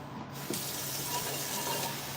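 Tap water runs steadily into a pot in a home kitchen, a soft continuous hiss and gush of moderate loudness that lasts the whole moment with no voices.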